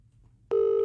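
A single steady electronic telephone ring tone on a radio call-in line starts abruptly and holds loud and clear, after a near-silent moment.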